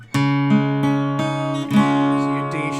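Guitar strings being tuned down a half step to E flat, a series of plucked notes ringing clearly one after another, close and loud with no talking.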